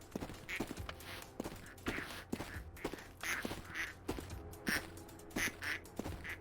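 A rubber duck quacks in an incremental factory-builder video game. Many short, soft quacks repeat rhythmically, one after another, over faint background game sounds.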